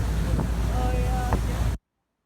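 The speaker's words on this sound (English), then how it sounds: "Oh, here comes the wind again." Wind buffets the microphone in a continuous low roar aboard a moving boat on open water, with faint voices and a thin tonal whine, then cuts off abruptly into silence.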